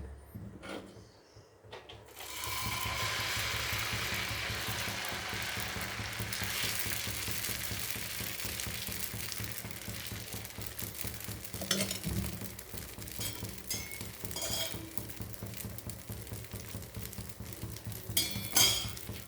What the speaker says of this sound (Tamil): இப்போ தோசை ஊற்றணும்.